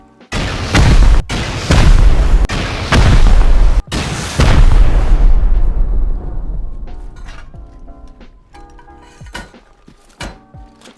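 Heavy rocket explosions in the video game Rust blow apart a solo player's base, a run of loud booming blasts in the first five seconds, then a long rumbling collapse and scattered sharp debris impacts fading out.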